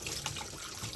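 Tap water runs steadily over hands or utensils at an outdoor cooking setup where brown stew chicken is being made for homeless people, a close continuous splashing with no talking.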